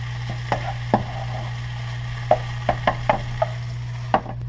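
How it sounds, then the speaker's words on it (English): Onions and chicken frying in a pan of oil for chicken fried rice, with a steady soft sizzle and a low hum under it. Sharp clicks and taps from stirring land at irregular moments. "I'm just cooking down the onions to get them a little bit softer and clearer"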